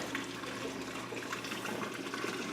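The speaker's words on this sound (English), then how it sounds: "The water level is just rising to the hose in the overflow" Water pours steadily into an aquarium sump, rising toward the overflow hose, a constant near rushing and trickling wash with no talking.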